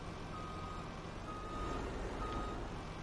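A truck reversing in Farming Simulator 19, its backup alarm beeping in a steady repeating pattern over a constant low engine rumble, moderately faint and with no one talking.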